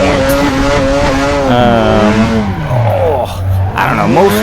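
A Mazda FC RX-7 drifts in Assetto Corsa, its engine note holding steady then dipping and climbing again as revs swing, with a continuous loud tone close up and no talk over it.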